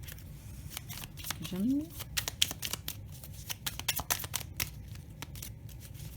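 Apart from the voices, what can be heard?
oracle cards being shuffled and drawn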